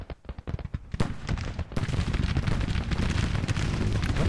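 Cannon fire in a Civil War era strategy battle game: sharp separate booms at first, then a dense, continuous rumbling barrage of overlapping artillery blasts and crackle, loud and without talk.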